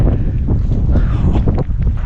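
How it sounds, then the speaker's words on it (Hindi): Cold wind buffets the microphone on a high Himalayan mountain summit at Churdhar, a loud, continuous rumbling roar with gusty swells and no break. "बहुत ठंडी हवा चल रही है"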